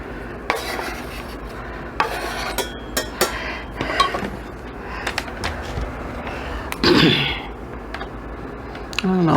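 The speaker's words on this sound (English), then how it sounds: "after the onions are thinly sliced, I'm going to go ahead and add it to my pot, or to my saucepan rather" Thinly sliced onions going into a saucepan, with close clinks and scrapes of a utensil against the pan in scattered bursts and a louder clatter near the end.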